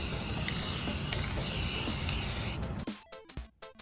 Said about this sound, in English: now he's spray painted